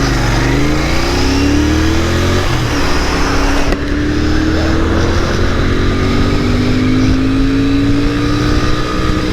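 A car's engine accelerates hard on a top speed run, rising through the revs with a brief dip at a gear change before climbing again, loud and close with wind and road roar.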